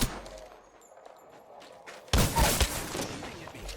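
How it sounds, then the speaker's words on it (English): Gunfire from the video game Apex Legends: a dense burst of close rapid shots erupts after quieter game ambience, loud and rattling for over a second with scattered echoing cracks. "Shooting at me."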